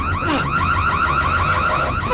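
A car alarm wails in a film scene, a loud, steady siren cycling through rapid rising and falling sweeps over a low hum, with no voices.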